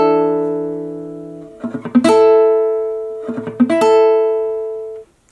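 Guitar barre chord rung out, then twice switched between fingers holding only the barre and the full chord shape, giving sustained tones with fret clicks and a shift in pitch at each change, close and alone.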